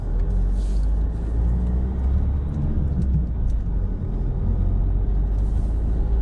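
A car drives in first gear through a tight left turn, with a steady low engine rumble and road noise heard from inside the cabin.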